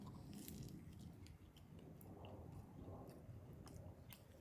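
Chewing and crunching on a Little Caesars stuffed crunch crust pepperoni pizza with buttered garlic topping, eaten from the crust end; soft, close bites and mastication run steadily through, with no talking.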